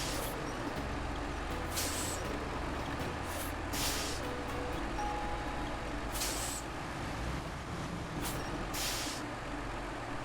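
A heavy truck in SnowRunner idles with a low diesel rumble while repeated sharp air-brake hisses burst out at intervals, steady and close with no talk.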